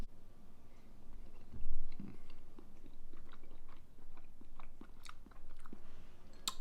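Close, soft chewing of vegan protein French toast with blueberries, a quiet rhythmic series of moist bites and crunches, with faint clicks and no talking.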